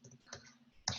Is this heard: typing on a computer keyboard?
yes